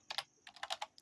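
Brisk typing of code on a computer keyboard, a couple of quick keystrokes, a brief pause, then a rapid run of crisp close clicks, alone in a quiet room.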